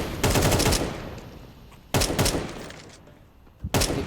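AK rifle gunfire in a Counter-Strike 2 match: three loud bursts of rapid automatic shots, the first two long and the last short, with quieter game ambience between them.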